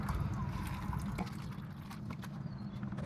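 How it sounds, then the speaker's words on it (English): Coolant drains from a Kubota RTV900 utility vehicle into a bucket, giving a steady close-up trickling, splashing pour with a continuous low wash and no voices. "drain the coolant out without spilling it everywhere"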